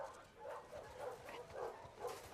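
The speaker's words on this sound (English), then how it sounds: "Ugh, with the fucking dogs." Dogs bark and yelp in The Last of Us Part II, a string of rapid mid-pitched barks at moderate distance, repeating in quick bursts with game ambience underneath.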